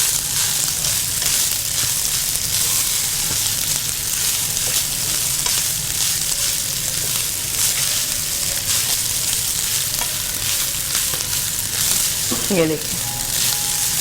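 Rice with green onions fries in a pan with a steady, close sizzle and occasional stirring scrapes, while someone talks briefly over it.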